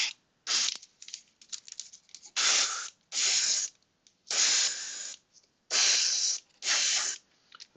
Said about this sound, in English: looks like it's starting to spray now